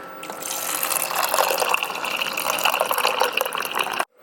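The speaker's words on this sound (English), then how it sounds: "I just put my ice in there, and now I'm gonna put my water" Water pours steadily over ice into a cup, a continuous close splashing fill lasting about four seconds before cutting off abruptly.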